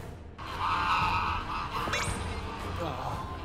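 Geese honk close by in a loud, steady cluster of nasal calls, with a few sharper cries rising over the flock noise.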